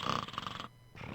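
Sandman, a sleeping character in the video game The Sand Man, gives a short, rumbling snore with a steady breathy drone that drops away briefly before resuming, moderately loud and without talk.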